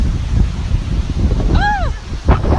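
Wind sweeps across a Florida beach, a steady low roar buffeting the microphone throughout, with a brief rising-and-falling whistle partway through and a short gust near the end.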